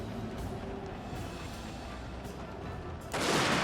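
Gunfire in a Fall of the Samurai battle at the siege of Osaka Castle rumbles in dense distant volleys, a continuous crackling fusillade that swells louder near the end.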